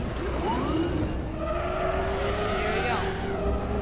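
A buggy in Star Citizen drives with a steady engine drone and tyre noise, rising whines suggesting acceleration, loud and continuous.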